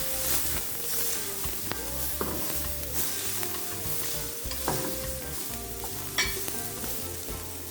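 Crushed garlic, Scotch bonnet and pimento seeds sizzling in oil in a frying pan, a close, continuous bright crackle with occasional clacks of a spoon against the pan.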